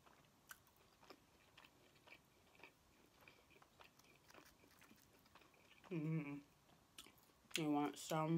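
Quiet, close chewing and biting of Chinese takeout food, an egg roll, with soft crunchy mouth sounds repeating steadily, then brief talking near the end.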